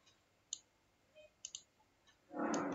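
Several sharp computer mouse clicks while working in PCB layout software, spaced irregularly and fairly close, followed by a louder broadband rustle or shuffle at the end; no talking.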